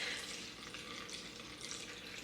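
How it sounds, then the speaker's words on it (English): Water poured into einkorn sourdough bread dough in a mixing bowl, a steady close splashing trickle with a faint hiss lasting a couple of seconds, no talking. "we're gonna go ahead and add our water"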